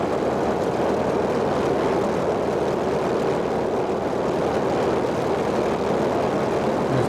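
Piston engine of an F4F-4 Wildcat in Microsoft Flight Simulator droning continuously in flight, a loud, steady propeller roar with no pauses and no voices.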